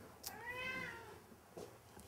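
A cat in a cage gives one clear, drawn-out meow up close. Faint clicks and rustles from the surroundings come before and after it.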